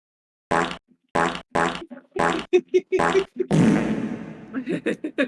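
A rapid string of separate fart sounds comes in a quick rhythm, followed by a longer, rougher blast and some scattered smaller ones, close and loud.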